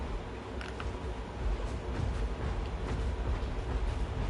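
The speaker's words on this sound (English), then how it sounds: "Got that choo-choo train" A steady rumbling train in the Path of Titans video game, with a broad continuous roar and faint rhythmic clatter held at an even level throughout.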